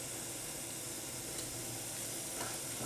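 Beef browning in a hot pan for a stifado stew, a steady, even sizzle running continuously with faint crackles, close and moderately quiet with no talking.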